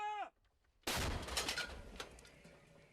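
A single close gunshot blast in war footage from Ukraine cuts sharply through a quiet moment, then rings out and decays with scattered echoing reports; a brief chirp-like sound precedes it.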